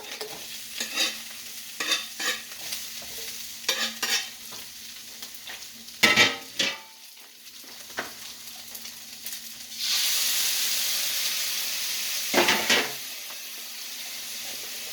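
Already-cooked meat sizzles and clatters as it is stir-fried in a pan, with repeated scraping stirs and bursts of spitting hiss, then a loud sustained sizzle near the end, close and alone without talk.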